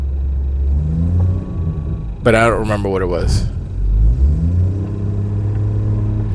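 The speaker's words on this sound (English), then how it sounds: "I got some jingle jangling going on in my engine" Car engine with a jingling rattle while driving, a steady low rumble running throughout beneath someone talking nearby.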